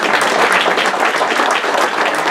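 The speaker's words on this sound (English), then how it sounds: "That should be a standing ovation" An audience breaks into loud, sustained applause, dense clapping filling the room continuously at close range.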